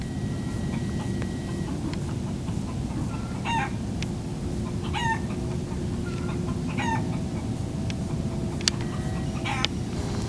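A chicken clucks in short repeated bursts near a rocket launch pad and the Starship shuttle, heard over a constant loud rumbling outdoor drone, with a couple of sharp clicks toward the end.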